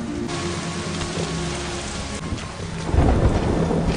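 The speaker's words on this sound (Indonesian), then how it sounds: "Malam berhujan dan petir" Heavy rain pours steadily on a stormy night at a forbidden mountain in a biblical epic film scene, and a deep rumble of thunder swells loudly near the end over the constant downpour.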